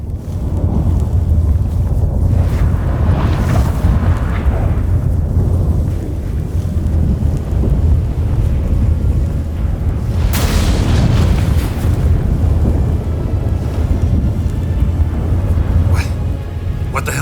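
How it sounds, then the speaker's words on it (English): Stormy wind and deep thunderous booms in The Witcher 3: Wild Hunt, a loud, continuous roar with a sharp crack midway and rumbling swells throughout, with a voice speaking over it. "That a storm?"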